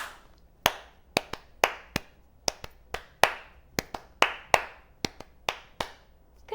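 Rhythmic hand clapping in a lively children's sing-along, about fifteen sharp, close claps in an uneven, catchy pattern with no talking over them.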